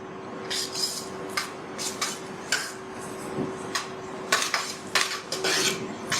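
A spoon scrapes and clinks against a pan while grated bottle gourd with dry fruits is stirred and roasted over low heat, giving intermittent metallic scrapes and taps over a steady low hum.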